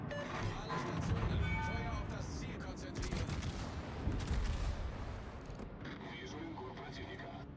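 Battleship main guns fire in World of Warships, including an Iowa and a Soviet Navarin, as a dense, loud rolling barrage of booms and blasts that keeps going steadily, with a voice faintly present underneath.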